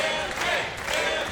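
A wrestling crowd at a women's title match cheers and shouts steadily, urging a wrestler to escape a rear chin lock; a dense, continuous roar of voices holds at a fairly even level throughout.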